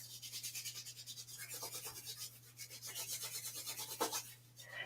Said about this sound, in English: Give the hands a rub.